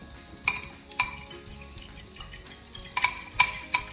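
Onions cook in a pan, a low sizzle broken by several sharp metallic clinks of a utensil against the pan, spaced irregularly and close.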